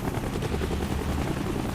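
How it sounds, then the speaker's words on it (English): In the Call of Duty: Black Ops video game, a helicopter arrives at a cliff edge with a loud, dense rotor thumping and roar that stays steady throughout. "Woods picks us up in a helicopter on the edge of a cliff"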